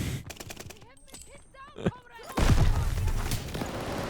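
A revolving shotgun fired in the video game Call of Duty: Vanguard, with voices talking over the first half before a loud burst of gunfire and booming impacts takes over.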